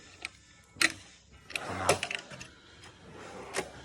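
Drawers on a US General four-drawer tool cart sliding and bumping shut, a series of sharp metallic clacks and rattles spread over a few seconds, close and fairly quiet.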